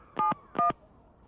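Two short tone-dial beeps from a telephone keypad, each a clean steady pair of pitches, loud and close with a brief gap between, as a number is punched in.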